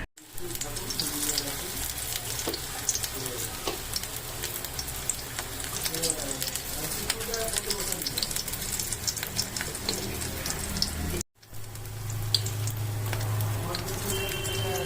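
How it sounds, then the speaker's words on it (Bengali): Moringa flower fritters sizzling in hot oil, a steady dense crackle of frying running throughout, with a brief gap near the end as more battered flowers are dropped in. "আমি এবার এই তেলের মধ্যে আগে থেকে মেখে রাখা সজনে ফুলগুলো এক এক করে ছেড়ে"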